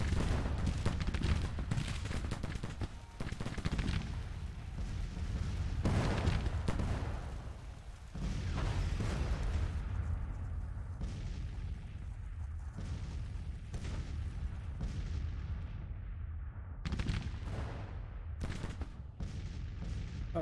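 Counter-battery cannon fire in the Grand Tactician: The Civil War strategy game, with repeated booming artillery shots and distant rolling gunfire continuing throughout, loud and dense, some reports sharper and closer than others.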